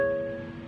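A ukulele with a capo on the 4th fret rings out in one short, sustained strum or pluck, decaying gradually and heard alone at moderate volume.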